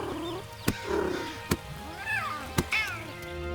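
A cat in a roguelike video game meows and purrs while being petted, with a few short chirping mews between soft sharp taps, close and clear with no speech.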